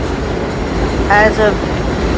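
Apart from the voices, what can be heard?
elevated 6 subway train passing by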